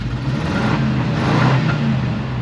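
A 1970 Ford Mustang engine idling after a cold start with a sticking choke, a loud, steady low rumble close by with a slight rise in revs, no talking.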